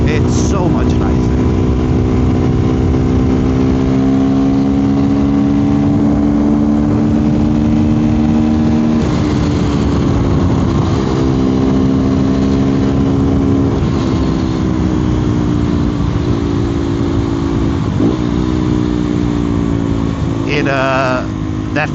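KTM Duke 390 Gen 3 fitted with a slip-on exhaust and a Fuel X Lite, idling loud and steady with a droning engine note that rises and falls slightly over about twenty seconds.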